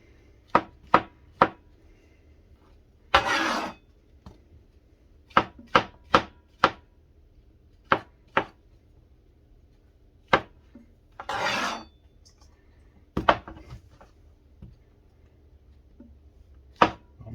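Knife chopping on a cutting board while preparing mushroom soup: crisp, sharp knocks come in quick clusters, with two longer scraping sweeps across the board, close and clear with no talking.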